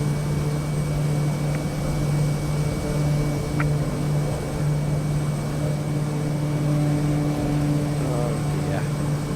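A steady propeller-plane engine drone from Microsoft Flight Simulator, flying over Papua New Guinea, holds a constant low hum with a faint higher whine throughout, loud and continuous with no break.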